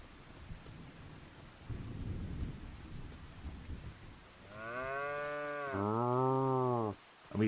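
Two long, loud moos from Angus cattle in the Farming Simulator 25 video game, one right after the other, following a stretch of rumbling ambient rain and wind noise.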